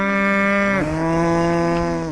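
A single loud, close cow moo from cattle on an Arizona ranch, a long drawn-out low call that shifts pitch partway through, with no talking.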